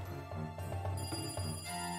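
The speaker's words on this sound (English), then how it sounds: "Noise of the phone suddenly broke the silence." Telephone bell rings in the Higurashi video game, shrill repeated pulses over a humming musical background, fairly quiet and steady.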